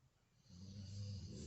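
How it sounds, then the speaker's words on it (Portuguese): A pet snoring nearby, a low soft rasping rumble that swells and holds steady, faint and alone. "Tá escutando o ronco?"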